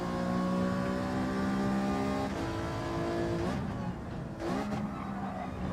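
Race car in Gran Turismo 7 at high revs, engine whine dropping in pitch at each gear shift, two shifts audible, loud and continuous with slight tire noise.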